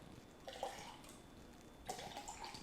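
Water poured into small test containers, two short splashing pours heard close and fairly quiet against a soft room hush.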